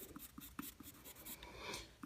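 Colorless blender pencil rubbing over colored pencil on paper, a run of soft, brief scratchy strokes in a quiet, close setting with no voices.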